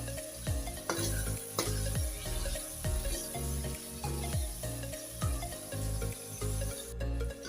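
Garlic-ginger paste and chopped tomato fry in a pan for masoor dal, a steady close sizzle broken by repeated stirring strokes that scrape the pan about every half second.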